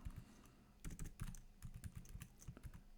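Typing on a computer keyboard at a desk, quiet and close: a pause, then bursts of quick key clicks in irregular runs with brief gaps between them.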